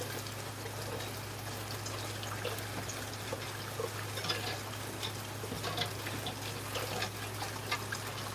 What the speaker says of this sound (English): First thing I'm going to do is go ahead and finish washing this.